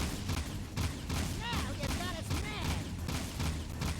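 Gunfire in Jak 2 as enemies, small green blobs, are shot: rapid bursts of shots mixed with busy game sounds and brief chirping tones.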